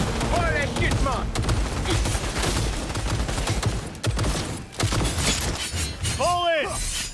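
Dense, sustained gunfire from a firefight in Cyberpunk 2077, loud and continuous with sharp cracks and shattering impacts, while voices shout over the din.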